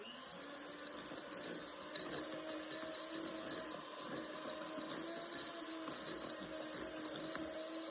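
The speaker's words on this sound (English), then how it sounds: "I'm turning my mixer down because I don't want to wear it all." Electric mixer whirring steadily through thick homemade pancake batter in a bowl, a continuous mechanical drone with slight fluctuations as the speed changes, close and fairly loud, no voices.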